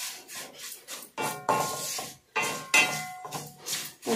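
Fenugreek seeds roasting in an iron pan, rasping and crackling as they are stirred in short repeated scraping strokes, close and fairly quiet.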